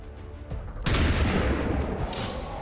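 Loud gunfire bursts in the XCOM 2 video game, with a sudden heavy volley of shots erupting after a quieter stretch and continuing densely to the end.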